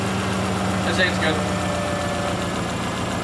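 A repaired car engine, still carrying an exhaust leak, idles steadily with a low, even hum throughout, while someone talks over it close by.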